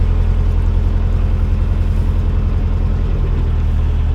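A canal boat's engine drones steadily at cruising speed as it passes towpath moorings, a continuous low throbbing with no voices.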